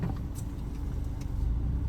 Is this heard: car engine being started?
yes